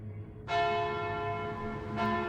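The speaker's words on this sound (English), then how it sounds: "Mike rang the bell." A large bell rings out with a rich, sustained metallic tone, struck once and then again about a second and a half later, loud and resonant over a low rumble.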